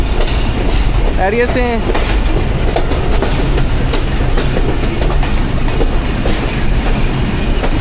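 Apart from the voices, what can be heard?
Awam Express passenger train running on rails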